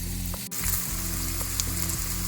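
Small hummus-and-salsa rolls fry in hot oil with a steady, close sizzle and bubbling, with a brief clink or pause and light stirring noises throughout.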